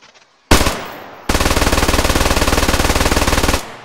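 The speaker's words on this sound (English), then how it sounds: "The MG42, Hitler's buzzsaw." An MG42 machine gun in the RHS mod fires a single loud shot, then after a short pause rips into a long, extremely rapid continuous burst with a buzzing, saw-like rhythm that ends abruptly.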